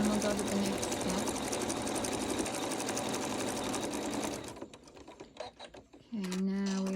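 An embroidery machine stitches a snowflake design onto a hat, giving off a steady, rapid mechanical whirring and clatter for several seconds. It then slows into scattered ticks, and a voice starts speaking at the end.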